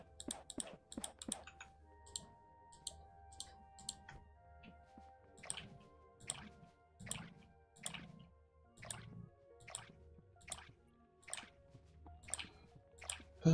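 Crops being watered in the video game Core Keeper: a repeated series of squishy, dripping splash clicks, roughly one per second, moderately close and alone over a quiet low background.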